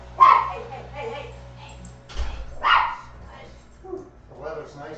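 A little puppy dog barks a few scattered times, close by, while a person talks over and between the barks.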